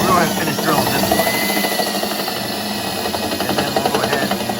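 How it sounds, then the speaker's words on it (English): A power drill boring a hole in a Jeep Wrangler, a loud, close, continuous whirring drone with slight pulsing and vibration. "We're going to finish drilling this one."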